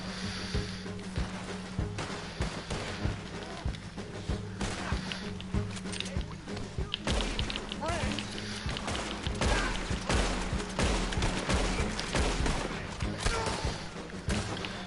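Gunfire in Red Dead Redemption 2, a string of sharp thumping shots and impacts scattered across the clip amid busy game noise, with a voice talking at times.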